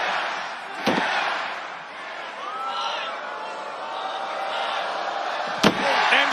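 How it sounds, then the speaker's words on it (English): In a La Knight vs Drew McIntyre number one contenders wrestling match, McIntyre's head is slammed into a reinforced announce desk, giving two sharp, loud impacts several seconds apart over a roaring arena crowd and continuous commentary. "He's slamming his head into the new reinforced announce desk."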